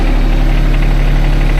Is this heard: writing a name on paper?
no